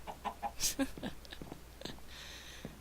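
A chicken clucks in short, scattered bursts at close range, fairly quiet against a faint background hum.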